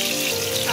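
Bay leaves fry in hot soybean oil with a steady, dense sizzle that stays loud and close from start to finish, with no pauses.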